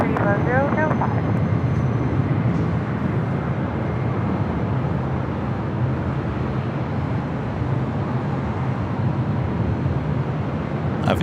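Delta Boeing 737-900ER airliner, flight from Miami, landing at LAX in east-flow operations, a steady loud roar of jet engines holding throughout, with talk over it.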